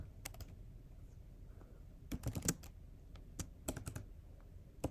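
Quiet, irregular clatter of computer keyboard keys being typed in short bursts, close up, over low room hum with no talking.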